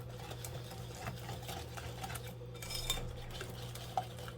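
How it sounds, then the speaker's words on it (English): An egg is beaten into banana nut muffin batter in a bowl, a quick rhythmic whisking and scraping with light clinks of utensil against the bowl over a low steady hum. "In here, we're adding our egg. And again, we're beating that in."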